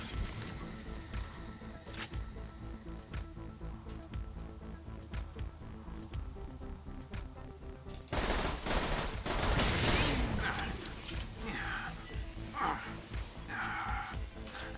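Gunfire in the shooter game Borderlands 2, a steady run of muffled shots over a droning background of game music and effects, growing louder and denser in the second half.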